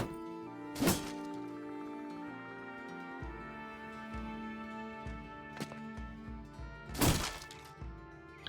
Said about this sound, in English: Slashing at the shields of the raiders.